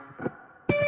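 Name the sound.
natural harmonic at 7th fret on distorted electric guitar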